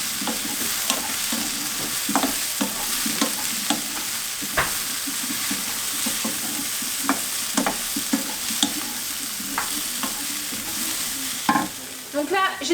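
A spoon stirs cream into Brussels sprouts in a hot pan, with gentle scraping strokes over a steady sizzle of frying, close and continuous without talk.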